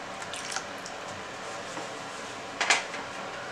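Boxed Good Life milk pours into sweet potato pancake batter as a steady, soft close stream, with a brief louder splash near the end.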